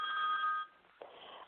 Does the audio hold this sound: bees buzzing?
no